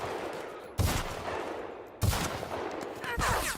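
Gunfire in The Outer Worlds: Spacer's Choice Edition, two sharp loud bursts about a second apart, each trailing into a noisy decaying tail of shots and action sounds.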